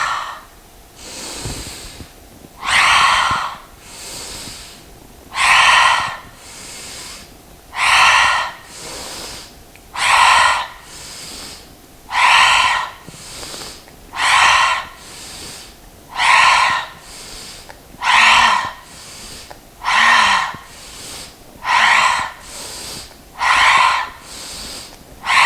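Slow rhythmic yoga breathing during a home vinyasa flow, about a dozen loud, close, airy breaths spaced a couple of seconds apart, each swelling and fading, with no speech.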